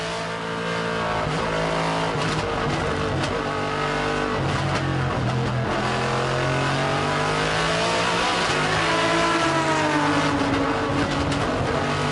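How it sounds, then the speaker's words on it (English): A Nissan GT-R race car, the Godzilla, with a rumbling V8 roars steadily and close by, its engine pitch rising and falling through repeated revs and shifts, with no talking over it. "Let's compare the noise that the Godzilla, the GTR, makes"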